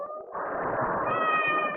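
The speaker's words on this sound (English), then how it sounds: "Oh, it sounds hungry." A hungry house cat meows loudly and insistently from nearby, a sustained, rising cry that holds for well over a second with no talk over it.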